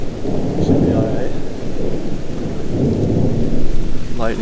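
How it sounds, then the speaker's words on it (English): Thunder rumbles through a lightning storm outdoors, a deep, continuous roll that swells, eases briefly and builds again, with steady rain hissing underneath throughout. "Lightning storm. Not good."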